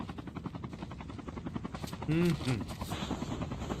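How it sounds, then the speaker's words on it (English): Helicopter rotor chop in the mobile shooter COD Mobile during a tournament match, a steady fluttering drone under ongoing game noise and a commentator's voice, swelling briefly louder midway. "Oh, Ninja's coming in with its chopper."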